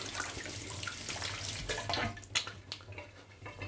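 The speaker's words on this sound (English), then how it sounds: "I'm going to do very quickly wash my hands" Tap water runs steadily into a kitchen sink while hands are quickly washed, with uneven splashing and bursts as the hands move under the stream, close and fairly loud.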